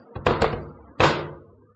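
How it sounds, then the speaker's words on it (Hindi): Heavy wooden thuds and a crashing impact as a door is forced off its hinges and hits the floor, two quick knocks followed by one loud slam that rings and decays, close and with no voices. "दरवाजा जब जमीन पर गिरा तो उसकी आवाज ने कान के पर्दे हिला दिए"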